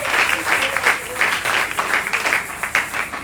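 Congregation at a Sunday church service applauds to acclaim the Lord, with loud, close, ragged clapping in rapid bursts that swell and dip, joined by a few scattered cheering voices.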